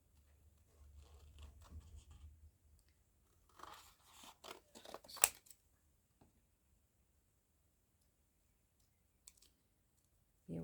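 Scissors cutting out a hand-drawn paper heart: a faint cluster of short crisp snips and clicks midway, then near silence apart from a couple of isolated ticks.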